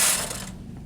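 The carriage of a punchcard knitting machine slides across the needle bed with a brief mechanical ratcheting whir, loud at first and then trailing off within a second.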